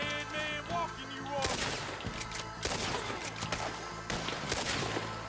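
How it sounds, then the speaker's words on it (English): Rapid gunshots crack in Red Dead Redemption 2 during a gunfight near some huts at Clemens Point, loud close bursts fired in irregular clusters over background music, with a voice talking at the start. "Oh, I shot off his hat."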